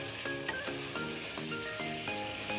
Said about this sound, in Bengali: এবারে খুব ভালো করে কষিয়ে নেব, একটু নাড়াচাড়া করব যাতে নিচে না লেগে যায়